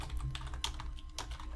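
Rapid typing on a computer keyboard while coding, a quick run of soft, close key clicks with a few sharper taps, fairly quiet.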